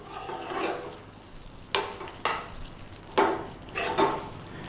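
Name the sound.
Madras spice paste cooking in a pan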